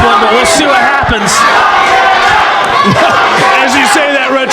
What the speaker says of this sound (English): listen to that crowd. They are yelling for blood